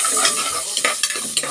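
Onion, garlic and ginger are being sautéed in hot oil, giving a steady close sizzle broken by several sharp scrapes and stirs of a utensil against the pan.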